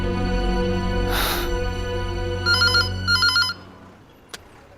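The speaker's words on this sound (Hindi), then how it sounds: "कम ऑन सोनाक्षी, अब तुम मेरा फोन भी नहीं उठाओगी।" A phone rings with repeated electronic trills, two bursts of ringing in quick succession, loud and close, then stops.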